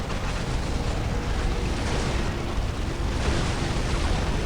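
Vehicles exploding in the video game Dawn of War Unification, a dense, continuous roar of blasts and rumbling destruction, loud and unbroken, with no voices heard.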